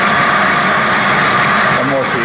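A Kasto SSB 260 VA production-style vertical band saw runs loud and close, its steady broadband machine drone continuous throughout, with a brief rising whine near the end.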